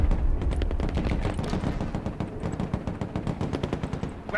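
Dense, sustained battlefield gunfire from the Broken Arrow war video game: continuous rapid machine-gun bursts layered with heavier shots and booming impacts, loud and unbroken throughout, with no talk.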